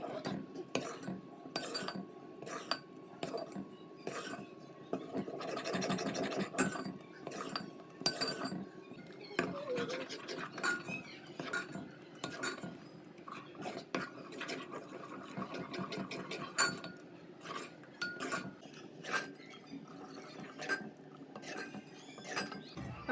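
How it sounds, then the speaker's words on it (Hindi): A spoon stirs and scrapes gram flour (besan) roasting in a pan over a slow flame, producing irregular metallic clinks and scrapes, close and fairly loud, with brief pauses between strokes. "तो लेट द बेसन cook on a very very slow flame and keep stirring it."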